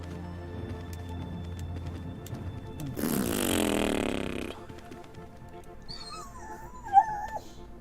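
A dog whimpers in high, wavering whines near the end, after a burst of broadband rumbling noise, with a steady low background hum throughout.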